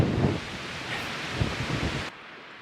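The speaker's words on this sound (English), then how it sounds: "It's cold and windy." Cold wind gusts across the microphone on a mountain trail on the Arizona Trail, a loud broadband roar that drops off abruptly near the end.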